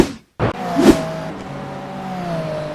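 A GT3 race car in a racing game drives with a steady, loud engine drone and whine, after a brief sharp burst near the start, holding a sustained close tone throughout.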